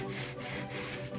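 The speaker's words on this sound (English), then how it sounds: "I'm just gonna run the sandpaper across there" Sandpaper rubbed back and forth across a wooden caddy to strip off wax, a close, dry scratchy rasp in quick repeated strokes with brief pauses between passes.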